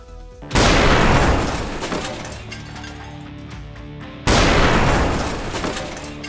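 Two Mark 84 bombs exploding, each a sudden heavy blast followed by a long rumbling, crackling decay; the second hits about four seconds after the first.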